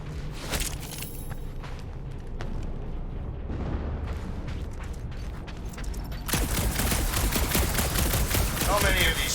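Ship guns fire in the video game Guardians of the Galaxy as dense rapid bursts of blasts crackle continuously, swelling louder and busier toward the end over a rumbling backdrop.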